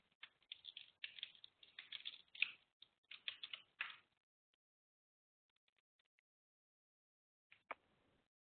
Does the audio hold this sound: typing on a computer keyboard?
yes